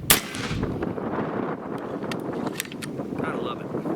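A ZEUS .72 caliber air rifle firing outdoors, one sharp heavy blast at the start that decays into steady wind rumble, with faint clicks afterward.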